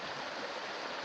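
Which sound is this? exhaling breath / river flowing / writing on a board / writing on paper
river flowing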